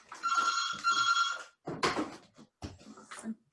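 A phone rings with a bright electronic trill in two bursts, followed by handling clatter as it is switched off, close and fairly loud.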